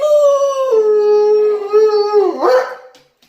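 Luna the dog gives a loud, sustained, wavering howl up close that rises into a yelping whine near the end, then stops abruptly; no talk.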